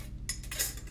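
A blade chopping through a block of translucent and white Premo polymer clay, giving two or three quick, close, crisp tapping cuts against a hard surface, with no voices.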